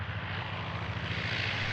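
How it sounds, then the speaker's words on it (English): A low-flying propeller plane passes overhead with a continuous loud engine roar and a steady throbbing drone. The sound is close and uninterrupted. "flying low in a plane across a 1940s Polish landscape, the fresh, comforting smell of warm bread baked by Esther's mother clashed with the piercing roar of the engine"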